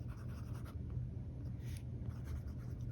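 An Esterbrook SD fountain pen with an extra fine nib writing on paper, a faint close scratching with short strokes and brief pauses, quiet and alone.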